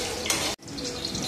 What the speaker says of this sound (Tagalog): Nahugas og baso si Ma'am Kat. Diningana lang kakusugan tubig.